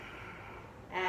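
A single steady breath drawn in through the nose during a yoga pyramid fold, soft and close, swelling louder near the end, with no talking.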